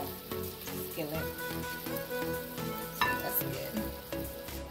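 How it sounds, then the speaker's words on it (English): A tuna fritter fries in a small skillet with a steady, soft sizzle that runs throughout, under background music. "We're gonna fry for about 2 minutes on each side."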